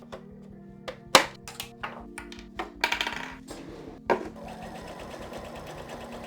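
A domestic sewing machine puts a small stitch on a chain, giving a low mechanical hum with sharp clicks and knocks, then a quick rattling run of stitches near the end.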